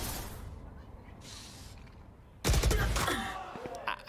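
Gunfire in a Valorant esports match, a sudden loud burst of rapid shots breaking in after a quieter stretch, with excited talk around it.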